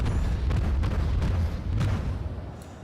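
Naval guns boom in World of Warships aboard the cruiser Aurora, heavy low thuds and rumbling blasts rolling one after another at a loud, steady level before easing off.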